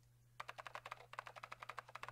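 Rapid, steady keystrokes on a computer keyboard tap out a brisk run of clicks after a brief silence, close and moderately quiet over a low steady hum.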